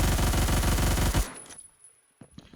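Rapid automatic fire from an M231 gun in the video game Phantom Forces, a loud dense burst lasting about a second, then cut off, leaving a few faint clicks and a short ringing tail.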